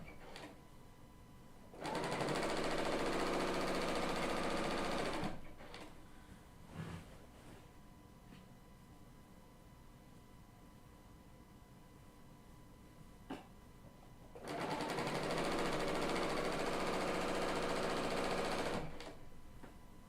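A Bernina L890 serger runs in two sustained bursts of fast, loud whirring stitching several seconds long, separated by a quieter pause with a few small clicks.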